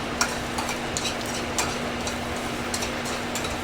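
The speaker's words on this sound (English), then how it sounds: "that garlic's starting to sizzle a little bit" Garlic and sun-dried tomatoes sizzle gently in oil in a pan, a steady low crackle with a faint hum and occasional light ticks of a utensil against the pan.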